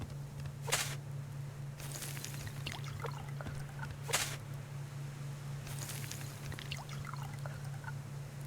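Water poured in the survival game Subsistence: several short splashy pours and trickles in bursts, separated by pauses, over a constant low background hum.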